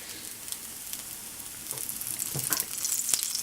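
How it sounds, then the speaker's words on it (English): A vegan breakfast patty fries in refined coconut oil in a pan, giving a constant close sizzle and crackle that grows louder and busier toward the end. "As you can see, it's burning and it's cooking in the pan"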